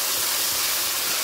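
Cumin seeds and curry leaves sizzle in hot oil for a tempering, a steady close broadband hiss with no pauses or talk.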